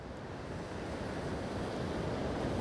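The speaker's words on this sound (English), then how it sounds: "We got Hurricane Dorian way down there, but we're getting some pretty good waves." Ocean surf from Hurricane Dorian swell rolls in as a dense, steady broadband roar of breaking waves, with wind noise buffeting the microphone outdoors and no voices.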